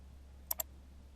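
A computer mouse clicks twice in quick succession while working in GIS software, two crisp faint ticks over a quiet low hum.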